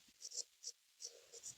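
Hand writing during a lesson, pen or chalk scratching in short, uneven strokes with small gaps between them. Faint and close, with no talk over it.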